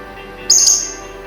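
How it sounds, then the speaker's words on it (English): A single short, bright chirp from pet birds at night, close and clear against a quiet background hum. "My birds are enjoying the ambience at night."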